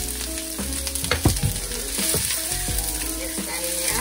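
Chopped onions and minced garlic sizzle steadily in a hot cast iron skillet for shrimp fried rice, with a broad crackling hiss throughout and several sharp scraping knocks of stirring near the start.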